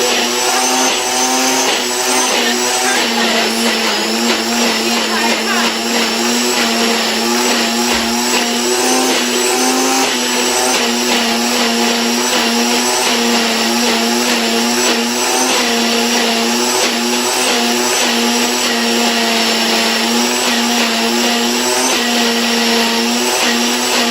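A Ninja Foodi SS101 smoothie bowl maker blends on its Power Bowl setting, giving a loud, steady motor whir that holds for the full stretch without pause or talking.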